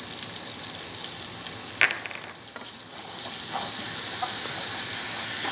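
Rice frying in a pan with black soy sauce, a steady close sizzle and hiss that swells slightly, with one brief stirring knock and no talk.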